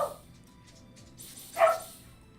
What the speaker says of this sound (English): Do you hear my dog?